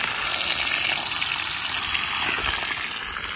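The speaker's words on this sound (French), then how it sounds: "Là, ça arrose." Irrigation water gushes and sprays from a garden line feeding a row of about sixty trees at once, a loud, steady rushing hiss close by that holds constant throughout with no voices.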